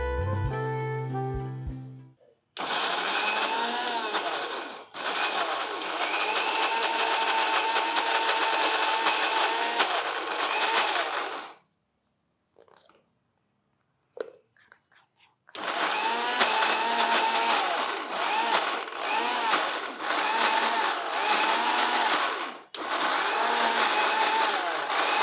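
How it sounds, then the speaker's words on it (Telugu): A mixer grinder blends cooked, cooled carrot pieces for soup, running loud in two long whirring bursts separated by a short pause with brief clatter, with no talk. "ముక్కలు చల్లారిపోయినాయి, మిక్సీలోకి వేసేది."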